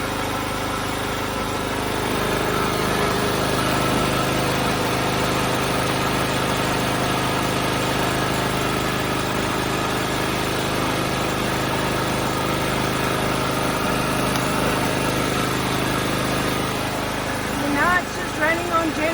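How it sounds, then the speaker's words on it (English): Generator running steadily on an off-grid homestead, a continuous mid-pitched engine drone with a constant hum and vibration, loud and unchanging, with a brief clatter near the end. "Running on generator"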